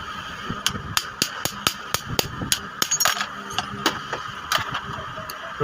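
A hammer drives a flat metal strip to seat the bush on the shaft of a Siruba overlock sewing machine. About a dozen sharp, evenly spaced metallic taps sound close up, some coming in quick doubles.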